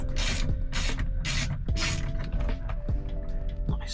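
A ratchet with a deep 26mm socket works on a classic Mini Cooper steering wheel nut, giving loud, close, rapid clicking with repeated strained creaks and metallic clunks throughout.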